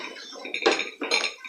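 Metal spoon working dough in a cooking pot on the stove, two close bursts of scraping and clinking as it's pulled and pushed, no voices.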